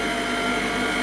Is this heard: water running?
no